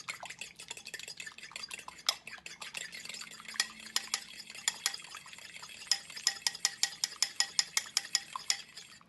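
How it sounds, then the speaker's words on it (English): One egg beaten with a fork in a bowl, rapid close clicking taps of metal on the bowl that quicken and grow louder toward the end, with no one speaking. "We're going to mix up that egg."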